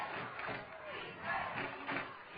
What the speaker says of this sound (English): Chardon fans down below. You can hear them cheering for the defense